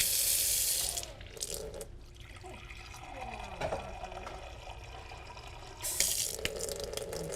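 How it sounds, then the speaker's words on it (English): Tap water pours into a measuring cup: a hissing gush starts, settles into a steady rising trickle as the cup fills, then a louder burst of flow near the end, close by in a quiet home kitchen. "And then we need to put in some water."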